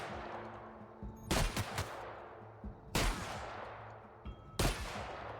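Gunfire from a weapon in the video game Outer Worlds, with three loud broadband bursts of several rapid shots each, spaced about a second and a half apart over a steady low game ambience.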